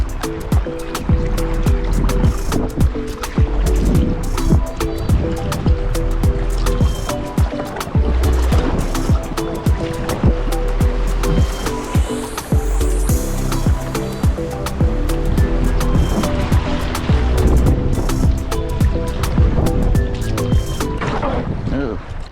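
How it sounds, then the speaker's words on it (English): A Prijon Enduro 450 kayak moves down a river, with continuous rushing water, splashing paddle strokes and hull knocks filling the scene, loud and close throughout. "So let's keep going down the river."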